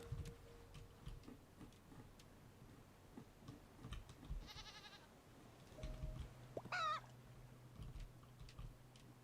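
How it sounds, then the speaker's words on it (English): A video-game chicken clucks in short quick squawking bursts amid quiet ticking game ambience, fairly faint overall. "you heard the sound of the chicken"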